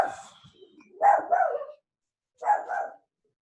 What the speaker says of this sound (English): They're just barking because there's another dog across the hall